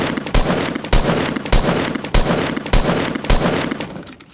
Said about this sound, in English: They'll start to add a clicking sound as the gun shoots